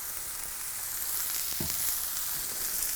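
Lion's mane mushrooms fry in oil in a pan, giving a loud, continuous sizzle with a brief crackle midway as more oil goes in at the sides.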